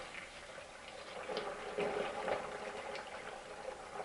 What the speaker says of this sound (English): pour it in. I don't want to go faster than my filter. Faster than my funnel will allow me to. And it's pouring in nicely.